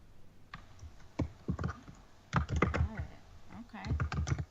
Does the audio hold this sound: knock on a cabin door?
no